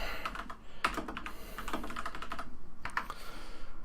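A new mechanical keyboard clatters under fast, uneven typing, with crisp close key clicks in bursts and short pauses, a low hum behind it and no talking.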